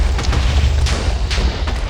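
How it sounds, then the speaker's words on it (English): A maelstrom cannon firing in a video game, loud booming blasts in rapid succession over a constant heavy low rumble, each shot a sharp broadband crack. "Fire the maelstrom cannon."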